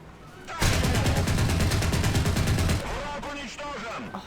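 An anti-air gun in a video game fires a fast, sustained burst of rapid shots for about two seconds, loud and close, then stops as someone speaks excitedly.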